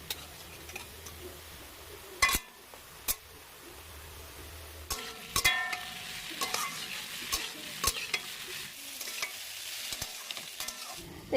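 Potatoes fry in a pan, a soft sizzle under repeated scraping and stirring clatters from a utensil, with sharp intermittent knocks against the pan, close and fairly quiet.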